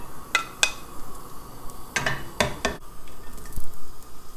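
Sliced garlic sizzling in a pan for a mushroom Alfredo sauce, with a soft frying hiss under several sharp clinks and scrapes of a utensil against the pan, close and fairly loud.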